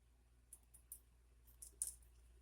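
Scissors snipping through strings for a curtain-style journal card: a handful of faint, quick, sharp clicks spaced unevenly, close and quiet with no talk.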